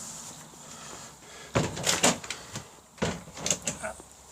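Bathroom door in a 2005 Fiat Ducato 2.8 JTD-based Trigano Challenger 173 coachbuilt motorhome, heard as two quick clattering bumps as it moves and latches, close by and fairly soft.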